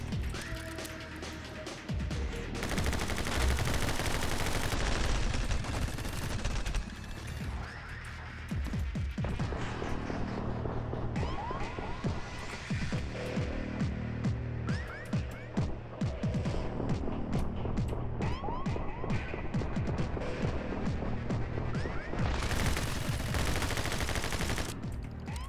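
Rapid gunfire bursts and ricocheting bullets fill a My Friend Pedro game fight, dense overlapping shots and crashes rattling on almost continuously with brief lulls, loud and close.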